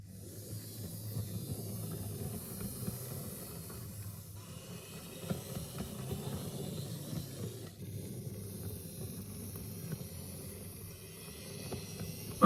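A tiny four-wheel Roco BR333 Köf III model diesel shunter, freshly cleaned and oiled, runs on model track with a steady soft mechanical whir and hiss at close range, with no talking.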